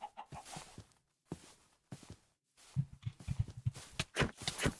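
A chicken in a Minecraft adventure RPG modpack clucks in a quick string of short, close calls, with footstep-like game noises and choppy bursts around them.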